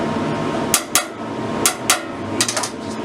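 Sharp metallic hammer blows strike the door of a 1965 Chevy G10 van during repair, landing in irregular pairs and quick clusters close up over a steady background hiss.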